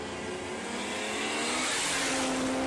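A drag racing car, likely powered by an inline-six Ford Barra, revs hard at Willowbank Raceway, a loud, sustained engine roar that builds steadily in pitch, heard from a distance with no talk.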